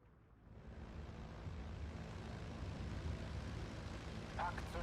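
A WWII IL-2 rocket plane's engine in the Steel Division 2 battle game forms a steady, loud droning roar that swells and holds throughout, with a brief brighter burst near the end.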